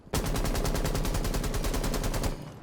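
Blackbeard's gun in Rainbow Six Siege fires a sustained rapid automatic burst of about twenty evenly spaced loud cracks, close and continuous for over two seconds, with no talk.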